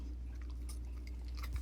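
Dog crunching on a piece of apple in a kitchen, a few crisp close bites and chewing sounds over a low steady hum.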